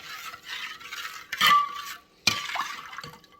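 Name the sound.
spoon stirring salt brine with cold filtered water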